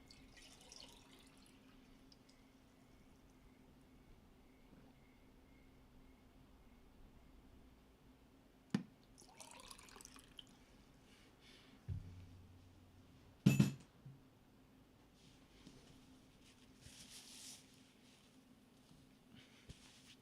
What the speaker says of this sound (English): I need to pour myself some water.